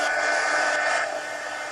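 Steady, loud whoosh of a hair dryer blowing on watercolor paint, running continuously at close range, with a slight drop in intensity partway through and no voices.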